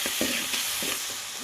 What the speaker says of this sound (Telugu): శనగకాయ పేస్ట్ అయితే మొత్తం వేగేంత వరకు అయితే బాగా తిప్పేసుకున్నాను